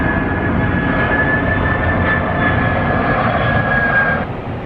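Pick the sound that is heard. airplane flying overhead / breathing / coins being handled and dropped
airplane flying overhead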